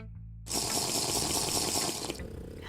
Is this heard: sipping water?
yes